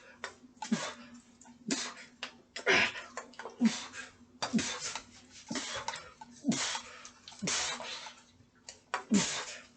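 Water in a barrel sloshes and splashes in repeated bursts roughly once a second, close and fairly loud, with breathy effort between the splashes.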